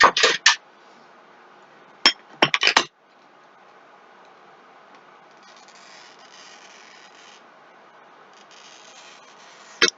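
Thin ribbon glass for stained glass work gives off a few sharp clinks and taps, followed by a long, faint, steady scoring hiss from a glass cutter, then another crisp click at the end.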